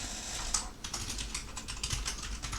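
A computer keyboard rattles with quick, uneven bursts of keystrokes, close and crisp, with short pauses between flurries and no voices.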